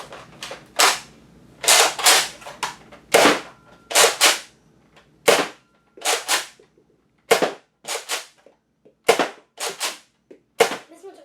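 A Nerf Rival Star Wars First Order blaster fires about fifteen sharp, close snapping shots in uneven bursts and singles, with brief gaps between them and no talking.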